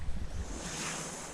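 Ocean surf washes onto the sandy beach at Alona Beach, Bohol, as a steady broadband wash with wind rumbling against the microphone. No voices are heard.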